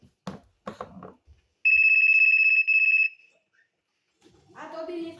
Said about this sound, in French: il y a le téléphone qui sonne